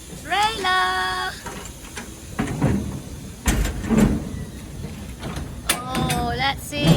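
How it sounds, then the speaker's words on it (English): Metal doors of a shipping container trailer swing open with creaks and clunks, close by, mixed with excited voices on container loading day. "Let's open the trailer."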